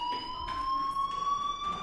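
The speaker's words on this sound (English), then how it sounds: "Hey, do you hear that fire alarm?" A fire alarm rings in the video game Life is Strange, a steady high electronic tone with faint pulsing that holds through the whole stretch, loud and close, with no voices.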